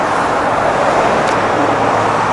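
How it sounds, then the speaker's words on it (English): Steady roadway traffic roars near Lake Country where a Grand Design Reflection 260 RD trailer is hitched to a truck, a loud continuous broadband wash of passing vehicles with no speech. "Very noisy, so I apologize, like I said, for the noise of the traffic"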